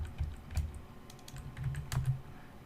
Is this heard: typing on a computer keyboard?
yes